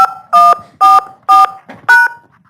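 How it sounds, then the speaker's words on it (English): Five loud telephone keypad tones are pressed one by one to enter a conference meeting access code, each a short steady two-pitch beep separated by brief pauses. "Please enter your access code followed by pound."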